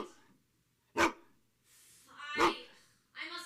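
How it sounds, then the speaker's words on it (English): A dog barks in sharp, isolated bursts, three distinct barks spaced about a second and a half apart, fairly close and loud against near silence, with faint breathing between. "Fie on that dog. Stop your mouth, you mangy mongrel."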